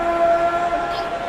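Referee whistle for a foul in NBA 2K24 basketball, a sustained clear tone blown over arena crowd noise, fairly loud and close.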